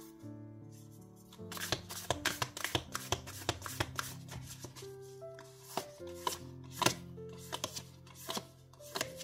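Tarot oracle cards shuffled and drawn, a run of crisp, close riffling snaps and slaps arriving in irregular bursts, heard over sustained soft background music with no voices.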